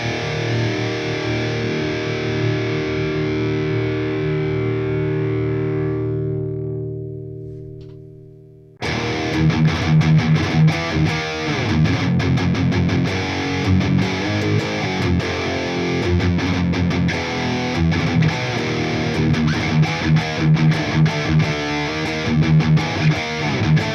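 Heavily distorted electric guitar played through the second channel of a Mesa Boogie three-channel 100-watt Dual Rectifier amp, a sustained chord fading out before dense, loud riffing kicks in and continues steadily.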